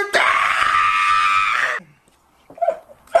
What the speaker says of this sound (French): t'entends ma mère crier